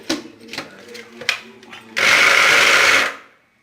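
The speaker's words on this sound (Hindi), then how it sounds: "अब हम थोड़ा थोड़ा करके कीमा डालेंगे अपना चॉपर में।" An electric chopper runs in one loud whirring burst of about a second as it grinds minced meat with onion, mint, ginger and green chillies, after some lighter handling sounds and talk.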